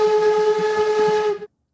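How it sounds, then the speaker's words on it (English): A train whistle blows one sustained, steady tone, loud and alone, holding for over a second before cutting off abruptly into silence. "Yep, there's that train."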